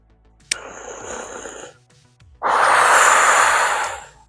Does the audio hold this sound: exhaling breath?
yes